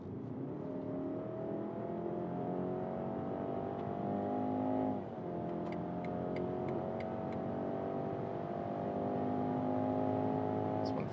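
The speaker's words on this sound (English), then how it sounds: "First of all, some tunnel test, and then we go for the full acceleration" A 2026 Audi Q5 or BMW X3 SUV accelerates at full throttle through a tunnel, its engine drone climbing steadily in pitch with a brief dip at a gear change, loud and continuous, with a few faint ticking clicks partway through.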